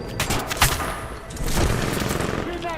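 Rapid gunfire and explosions from a Titanfall 2 campaign battle, dense bursts of shots with booms over a continuous roar of combat, loud throughout with faint voices in the mix.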